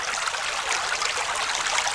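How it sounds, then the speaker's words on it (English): Small stream running over rocks at a hiking trail crossing, a steady close rush and trickle of water heard alone for two seconds. "Alright, you got a little stream crossing here."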